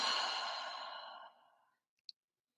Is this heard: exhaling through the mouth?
yes